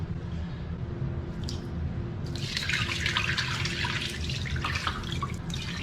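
Water pours steadily from a faucet into a freshly painted tile coach or shower pan coated for a waterproofing comparison, a continuous broad splashing rush that swells louder midway and runs alone without talk.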